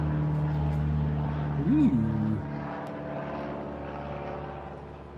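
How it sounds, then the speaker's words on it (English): A small propeller plane such as a Cessna passes overhead, a steady low engine drone across the whole stretch, with a man's brief exclamation cutting in near the start. "I'm hearing that plane go by."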